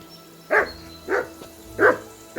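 A dog in the video game Kingdom Come Deliverance 2 barks four times in short, evenly spaced woofs, moderately close and clear over a quiet background.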